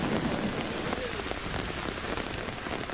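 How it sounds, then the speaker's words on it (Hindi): Stormy rain and hail pelt a street in Nainital, a dense, steady hiss of drops striking surfaces with scattered sharper pings, continuous and moderately loud with no clear voices. "इस तूफानी बारिश और ओलों की मार के बीच"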